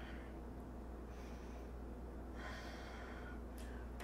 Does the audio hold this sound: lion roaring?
no